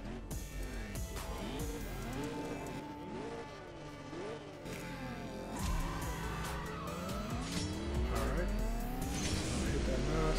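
A Chevrolet Corvette Stingray Z06 in the CSR2 racing game accelerating hard, the engine pitch climbing and dropping with each gear shift in a repeated rising sweep, loud and continuous with talk over it.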